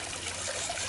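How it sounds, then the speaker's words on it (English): A little waterfall trickles into a small garden pond, a soft, continuous splashing patter heard close and alone. "the little tiny waterfall there in a pond"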